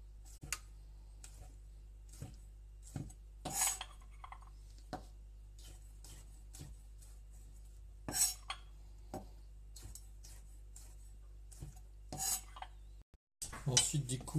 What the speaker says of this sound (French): je vais du coup détailler les olives en petites lamelles comme ça, assez grossièrement